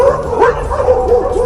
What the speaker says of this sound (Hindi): इसी सड़क पर कुत्ते एक जानवर का पीछा कर रहे हैं, उसे दौड़ा रहे हैं